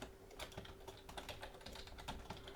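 Quick, continuous typing on a computer keyboard while entering SCAD code, a close run of light, uneven key clicks with no voices.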